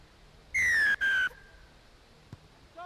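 Referee's whistle opening a club rugby league match between CH & FC and Havelock SC, two loud, shrill blasts in quick succession, the second trailing off, over faint crowd ambience.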